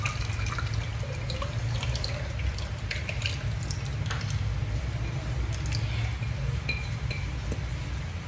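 Wet liquid sounds as a ground glutinous rice mixture for kalamay latik is strained through a sieve, a steady close trickle with occasional drips and light clinks.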